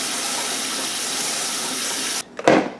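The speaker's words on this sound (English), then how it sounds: "So let me wash these up so we can have those as well." Ground cherries are rinsed under a running kitchen tap, a loud, steady rush of water that cuts off abruptly, followed by a brief splash and trickle.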